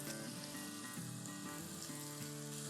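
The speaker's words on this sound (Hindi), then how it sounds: "ये देखिए सिजल सिजल सिजल" Chicken jalfrezi sizzling and frying on a charcoal stove, a dense steady crackle of hot oil close up, with no voices.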